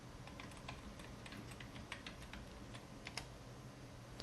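Quiet, steady computer keyboard typing as a new layer name is entered in Photoshop, a continuous run of soft close key clicks with a few slightly sharper taps, no voices.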